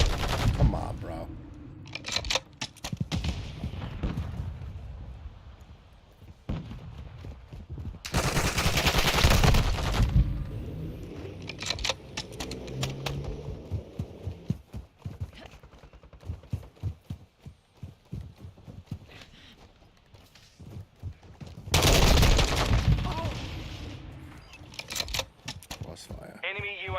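Gunfire in a Modern Warfare II multiplayer match comes as rapid, scattered shots with two louder bursts of heavy firing, while a player talks over much of it.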